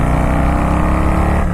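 A custom vintage Harley-Davidson Softail with a Stage 2 upgrade revs up under acceleration, a loud, close, steady engine roar with a deep rumbling throb throughout.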